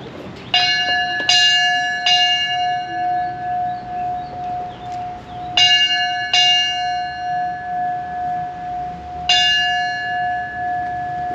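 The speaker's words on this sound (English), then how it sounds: "The bell also rung to notify other stations when a new station was placed in service." Fire station bell rung for the opening of Fire Station 50 on Marco Island, three separate groups of loud ringing strikes with long decaying tones between them, each sounded in a 3, 2, 1 signal pattern.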